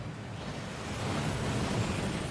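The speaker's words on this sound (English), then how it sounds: "That waterfall washes away all enchantments." A waterfall rushing in the Hogwarts Legacy video game, a steady, broad roar of falling water that grows slightly louder, continuous with no voices.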